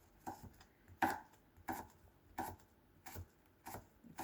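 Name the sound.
cutting pineapple into small sticks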